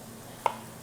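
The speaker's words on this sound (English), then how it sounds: "I'm going to just cut these up" A single sharp knife chop strikes through a potato on a cutting board, one brief crisp tap against a quiet kitchen background.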